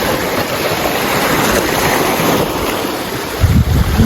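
Broadband sea surf washing continuously onto the shore, steady and fairly loud with wind noise, swelling slightly near the end, no voices.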